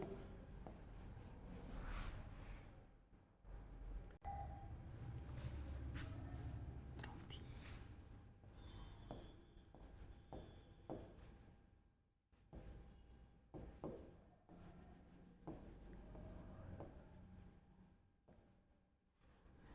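A pen scratches steadily across a writing surface in continuous close strokes with brief pauses between bursts, with no voices over it.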